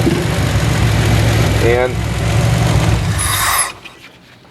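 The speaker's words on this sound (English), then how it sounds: "what would cause the engine to be seeking like that?" A 1994 Chevrolet Astro van engine runs with a steady low rumble that rises and falls as the idle seeks, loud and close, with a short voice heard and the sound cutting off near the end.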